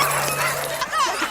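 Sled dogs give short yelping barks and whines, close and fairly loud, in a brief burst.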